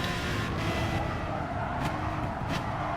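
An Aston Martin DBR9 race car drives in the racing video game Gran Turismo Sport, a loud steady engine roar with brief tire or passing bursts and no talk over it.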